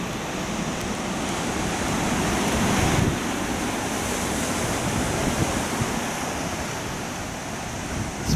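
Pacific Ocean waves break below a cliff at Walala Point, California, a continuous loud wash of surf mixed with wind buffeting the microphone, swelling slightly midway, with no talking.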